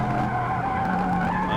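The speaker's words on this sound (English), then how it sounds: "My car's still squealing." Tires squeal in a continuous, loud, high-pitched skid from a Super Sedan race car in the racing game Forza Motorsport, with engine drone underneath and no pauses.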